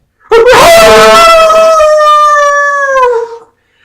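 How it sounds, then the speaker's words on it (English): A single long wolf howl sound effect, loud and close, rising sharply and then holding a steady, mournful tone for about three seconds before fading out, with no other sounds. "I hear the wolf cry of my own fears"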